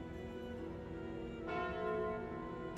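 The Calling Bell relic in the video game Slay the Spire rings out as a soft, sustained church-like bell toll that swells briefly partway through, with no speech.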